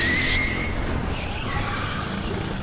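A go-kart on a karting track in Singapore skids with wheel spin, a brief tire squeal rising over loud, steady engine noise, with no talking.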